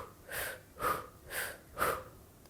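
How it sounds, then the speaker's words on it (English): Four rhythmic, evenly spaced breaths of a controlled breathing exercise, short partial inhales and exhales through the nose and mouth, close and fairly soft, with no voice. "Now try to do a few rounds of breathing where you only go between position 1 and 2"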